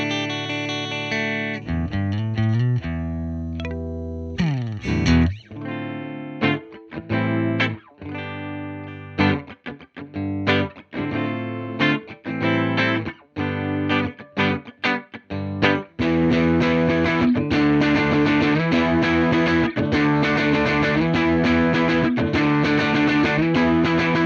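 Electric guitar played through a Universal Audio Showtime '64 amp plugin, with distorted tone and effects: choppy stabbed chords and short riffs for about sixteen seconds, then sustained, continuously ringing strummed chords, close and loud with no talking.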